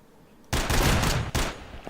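Gunfire in STALKER: Shadow of Chernobyl sounds as two loud, close bursts of rapid shots with a brief gap between them.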